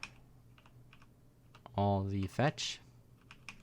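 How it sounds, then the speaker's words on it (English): Clicky computer keyboard being typed on at a desk, with scattered soft clicks and a short burst of faster, louder keystrokes in the middle, mixed with a brief spoken voice. "I apologize the clicky sound on my keyboard"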